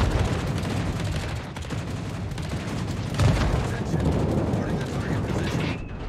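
Bombs dropped from aircraft burst in a naval combat video game, heavy rumbling explosions and continuous gunfire clatter filling the mix, with one stronger blast midway and a voice talking over it.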